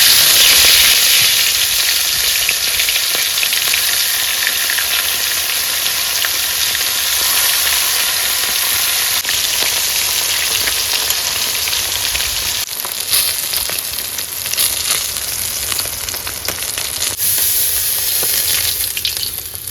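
Freshly caught river fish fry in hot oil, giving a loud, steady crackling sizzle that lasts the whole time. It is close up, with brief stirring disturbances now and then and no talk.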